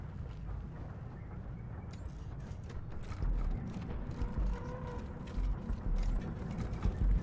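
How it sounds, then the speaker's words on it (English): Mechanical ratcheting and creaking of a wrench working a tight nut loose in Wasteland 3, a steady low grinding texture with clicky bursts repeating near and fairly loud, no talk over it. "This appears to be a tight nut in need of loosening."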